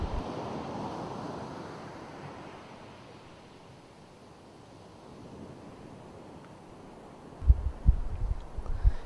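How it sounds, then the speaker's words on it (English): Ocean surf breaking close to the shore during a surfing competition makes a steady, broad roar with a gusty wind rush, and a few heavier, nearer thumps of water come near the end. "the waves are really breaking really close to the shore"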